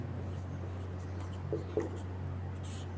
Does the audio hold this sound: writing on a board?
yes